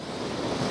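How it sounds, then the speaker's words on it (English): Surf at Second Valley jetty, an old stone and timber jetty on a rugged South Australian coast, gives a steady broadband wash of high waves with wind noise across the microphone, continuous and fairly close, with no voices. "It's a very rugged environment, and there are a lot of high waves"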